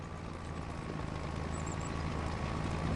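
Ford 1156 tractor engine in Farming Simulator 25 tilling a field during spring tillage, a steady droning hum with a low throb that grows slightly louder throughout, alone with no talking.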